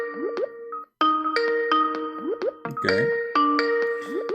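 A Skype ringtone chimes repeatedly in bubbly melodic phrases with rising plopping slides, loud and close, with a brief dropout and a warbling blip partway through.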